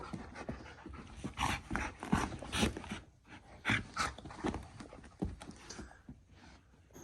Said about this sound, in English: Walking the doggo.